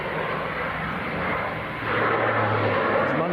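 Steady roar of an Aer Lingus ATR 72 turboprop arriving from Belfast and about to touch down, a broad engine and airflow rush at moderate distance that swells a little louder in its final second.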